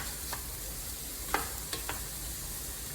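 Food cooks down in Kerrygold butter in a pan, giving a steady, fairly quiet hiss and sizzle with a few faint taps and clicks from a utensil, and no talking.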